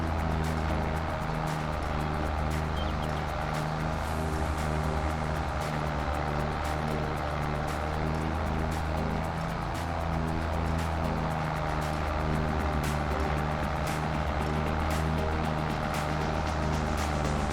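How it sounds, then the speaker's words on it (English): A small tractor engine in a farming video game roars steadily at full throttle, a loud continuous droning hum with a low rumbling tone that holds unbroken throughout. "Come on, little tractor, let's go. This is foot to the floor."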